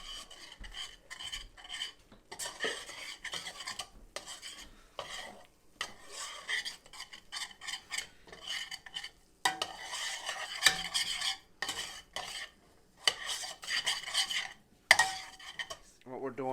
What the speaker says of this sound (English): we want to mix this as we go because we don't want it to stick